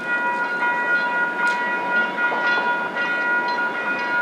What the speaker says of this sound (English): The westbound train is now arriving.